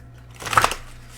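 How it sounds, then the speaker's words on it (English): A single quick riffle of Charm Cards from a Mystic Moon deck being drawn, a soft papery burst rising and fading within half a second against a quiet room hum. "I'm going to pull from the Charm Cards deck by Mystic Moon here."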